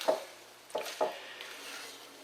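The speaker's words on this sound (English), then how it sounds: "So I'm mixing this up" Coleslaw being stirred together with mayonnaise in a bowl, giving three soft wet clicks and scrapes of a utensil against the bowl, close and quiet, then a faint low hiss with no talk.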